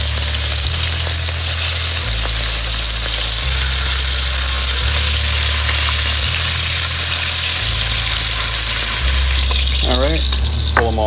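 Beef ribs sear in a hot pan for a Marsala braise, giving a loud, steady sizzle and crackle that runs unbroken throughout, with faint stirring and a low hum beneath it.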